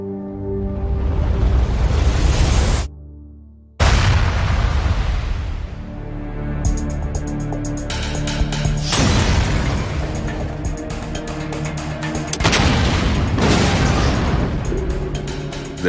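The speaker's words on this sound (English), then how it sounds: "There was a progressive experimentation using dynamite to find out the extent of damage particular strands of dynamite would cause." Dynamite explosions in bomb damage tests: several heavy, booming blasts with long rumbling decay, one cut off abruptly followed by another, loud and dense throughout with no talking.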